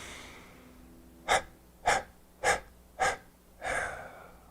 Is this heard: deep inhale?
yes